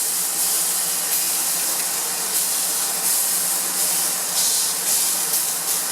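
A brined boneless pork loin chop sizzles in a hot pan just after being flipped, giving a steady, bright frying hiss that holds evenly throughout with no talking.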